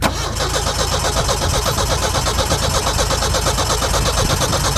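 Cold start of an engine already caught and running, a loud, close, steady mechanical clatter with a rapid regular pulse and no voices over it.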